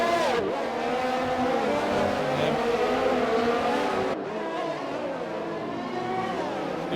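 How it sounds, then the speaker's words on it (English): An F1 2020 race car at Monaco spins out at the final corner, its engine whining loudly and continuously with shifting pitch and some tire scrub, with no talk over it. "Oh, there's been a spin at the back there. I just caught it. Tavares span out the final corner."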